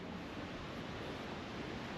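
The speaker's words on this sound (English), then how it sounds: "Quite a bit of water is running here." Water running and seeping through the leaking Maroondah Dam near Melbourne, a broad, steady rushing roar that stays loud and unbroken throughout.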